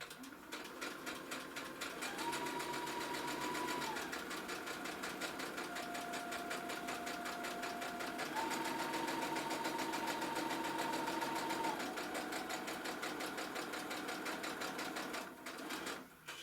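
A sewing machine stitches a fabric face mask in a steady, continuous whirring run of rapid needle strokes, close and loud, with short shifts in pitch as the seam turns and moves down a long edge.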